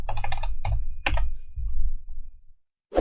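Quick bursts of keystrokes on a computer keyboard as a URL is typed, several rapid clicks followed by a brief pause and a final close keypress.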